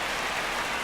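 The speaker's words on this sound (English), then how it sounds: "The rain is here, and it doesn't look like it's going away anytime soon." Steady broadband hiss of rain falling in the MLB The Show 26 baseball video game, an even, continuous wash with no talk, as a game sits in a rain delay.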